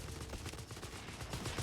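Dense, continuous gunfire from Company of Heroes 3, a machine gun rattling in rapid sustained bursts with overlapping shots, fairly loud and without pause.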